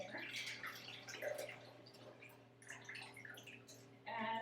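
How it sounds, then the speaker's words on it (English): Turkey drippings pour from a roasting pan into a fat separator in a home kitchen, a steady trickling, splashing liquid stream up close that swells louder near the end. "We're going to put the drippings in there so that the fat is removed from our gravy"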